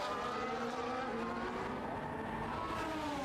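A race car in a racing video game, on the Qatar circuit, drives flat out down the straight with DRS open, its engine a loud, steady high-revving drone that holds near for the whole stretch with no voices.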